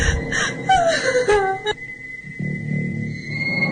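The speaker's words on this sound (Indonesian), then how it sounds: "Seperti tangisan wanita yang kesakitan" A woman's wailing cry of pain near a prayer room by a morgue, drawn-out moaning and whimpering tones that rise and fall, then a thin sustained whine, ending under a low murmur.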